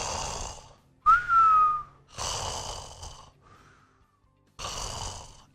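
A doctor imitating snoring with his voice, several rasping breathy snores separated by pauses, with a thin whistling tone in one inhale, close and alone.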